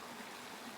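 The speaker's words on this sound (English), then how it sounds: "So we came down to this little creek" A small creek on the Colorado Trail, running low, makes a faint, steady trickle and wash of water with no other sounds over it.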